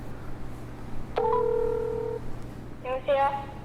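Telephone keypad tones as a number is dialed to call a child, with a sustained tone followed by a quick burst of beeps, under a low background hum, no talk.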